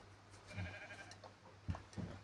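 A sheep in a video game bleats a few short, faint times over a steady low hum.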